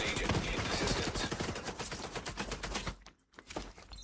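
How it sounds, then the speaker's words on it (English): Automated turret gunfire in The Division 2, rapid dense bursts of shots for about three seconds, then a brief pause and a few more shots. "3 turrets just vaporizing everybody."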